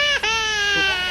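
A person sobs and wails in a loud, sustained cry with a brief catch of breath near the start, in a jungle setting during wartime in Laos.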